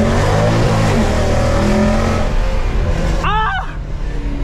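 A Mercedes C63 AMG W204, rear-wheel drive with 450 horsepower, roars close and loud under hard acceleration, engine note climbing through a gear before easing off, with a voice briefly shouting over it.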